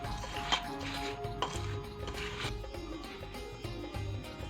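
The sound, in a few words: mixing semolina, sugar powder and grated coconut in a dish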